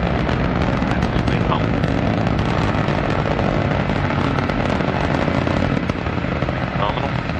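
Antares rocket first stage engine roaring at full thrust during launch from NASA Wallops, a loud dense continuous rumble with crackling bursts throughout, with a voice speaking over it.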